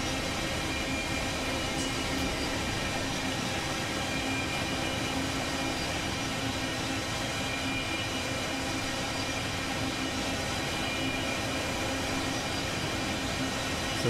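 A freight manifest train in Run 8 Train Simulator rolls on a slight downgrade toward Barstow, giving a steady, dense broadband rumble with a faint hum, continuous and unchanging throughout.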